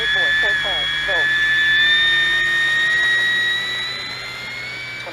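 A 1200mm Avios Hawker Sea Fury "Riff Raff" racer, an electric RC model plane, taking off on its maiden flight, heard as a loud, steady motor whine whose pitch climbs slowly as it lifts away, over faint background noise.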